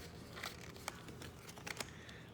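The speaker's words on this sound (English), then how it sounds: "So I'm just shuffling off camera here." Cards for the board game VoidFall are shuffled off camera, giving soft riffling and papery flicks with a few crisp snaps, quiet and close.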